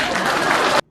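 An audience in the Joker film breaks into loud, dense applause that fills the space, then cuts off abruptly into silence.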